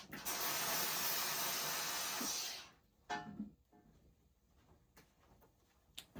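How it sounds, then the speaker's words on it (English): A steam iron blasts hot steam onto a waxed wool buttonhole in one long, loud, continuous hiss lasting over two seconds, cut off abruptly, followed by faint clicks and light handling sounds. "just hold your steam iron above it and hit the steam button a few times"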